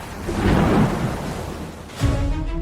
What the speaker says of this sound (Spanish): la flota fue golpeada y dispersada por una enorme tormenta